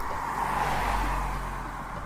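A rental car drives on the road toward the Saint-Émilion region near Bordeaux, a steady interior road rumble and engine drone with mid-range tire noise, continuous and even.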